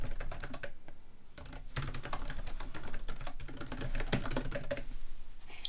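Keys clatter on a computer keyboard as an email address is typed, a fast irregular run of close clicks with brief pauses, no voices.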